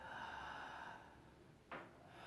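One slow, conscious pranayama breath is taken, with a soft, close exhale that fades away. It ends with a short, sharp intake near the close.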